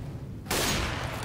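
An AWP sniper rifle fires through a wall in CS:GO, a single sudden loud crack followed by a sustained noisy blast and rumble.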